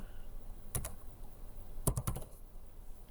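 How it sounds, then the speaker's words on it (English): A code typed on a computer keyboard: a couple of isolated key taps, then a quick cluster of clicks, close and fairly faint over a quiet room hum. "so I'm going to type that in here"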